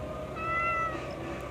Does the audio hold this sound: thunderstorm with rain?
no